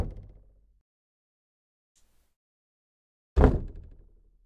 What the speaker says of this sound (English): Whatever it is, it's knocking right outside the door.